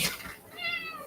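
A house cat gives one clear, close meow right after a brief rustle, with no talking.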